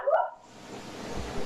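A small dog gives a short, sharp bark close to the microphone, followed by a second of faint background hiss.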